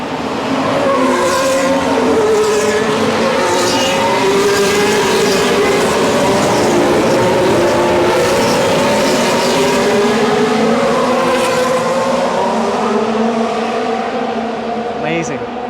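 Formula 1 race cars at the Singapore Grand Prix night race roar past loudly and continuously, overlapping engine tones rising and falling through the whole stretch, with crowd noise and voices under the din.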